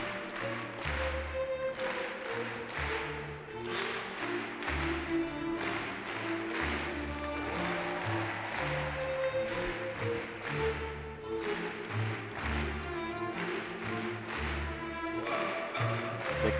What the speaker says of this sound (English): The crowd clapping in syncopated timing, impressive musical awareness from the crowd too.